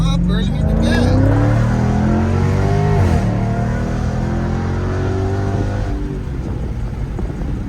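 A car engine revs loudly as the gas is pressed, its pitch climbing and then easing. Voices talk over the engine throughout.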